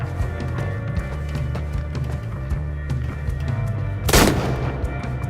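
Gunfire in a film or game, rapid shots popping over a loud, busy rumbling battle backdrop, with one big close blast near the end.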